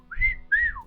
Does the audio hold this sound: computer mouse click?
no